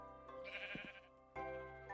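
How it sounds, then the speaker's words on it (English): A sheep in Minecraft bleats, one short quavering cry followed by a second bleat, clear and close against a quiet in-game background. "I'm gonna get the pink sheep first."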